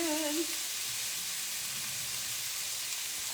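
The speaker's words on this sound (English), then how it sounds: "I hate the grease popping around." Bologna fries in grease on a stove, a steady bright sizzle with faint popping that carries on alone after a brief tonal sound at the start.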